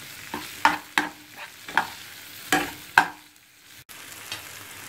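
Tomatoes and vegetables for chilli beef frying in a pan, a soft sizzle broken by repeated scraping stirs and spoon knocks at irregular intervals, close and moderately loud.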